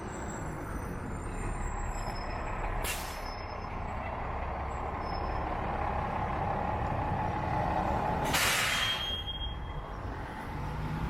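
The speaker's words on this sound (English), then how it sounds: "This is what's interesting here, the bus terminal" Steady idling diesel rumble of buses at a small-city bus terminal, with two sharp hissing air-brake releases cutting through the drone.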